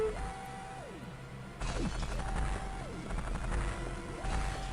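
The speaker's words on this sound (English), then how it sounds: "Hear an anvil sound." A heavy metallic anvil-like clang sounds in the Metroid Fusion game, with a loud impact partway through against looping synthetic game tones and crashing effects.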